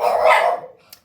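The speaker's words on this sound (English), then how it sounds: "The puppy across the hall is sad." A puppy across the hall lets out a single drawn-out bark or whine that fades away, followed by a tiny click, muffled by distance and with no talking.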